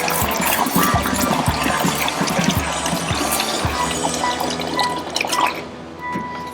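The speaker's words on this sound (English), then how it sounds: "We just drain it, all this water back into the trough" Water draining from a bucket back into a trough during area rug cleaning, a steady splashing, dripping pour that runs continuously up close before easing off near the end.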